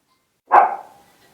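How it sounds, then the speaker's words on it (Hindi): A single sharp bark from a female dog, close and loud, fading quickly into silence. "ये जो कुत्ती तुमने रखी हुई ना, ये जो भौंक रही है"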